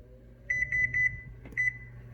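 A home convection oven's timer beeps as it is set: a quick run of six evenly spaced electronic beeps, a brief pause, then two more, clear and close over a low kitchen hum.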